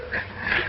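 A dog from the 1936 mystery film The Rogue's Tavern, a suspected killer animal, gives a short, close, strained growl or whimper lasting under a second, with no talk over it.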